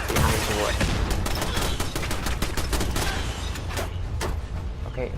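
Rapid gunfire rattles in Fallout 4 VR, dense bursts of shots and impacts crowding together at close range, thinning toward the end, with a voice talking over the fight.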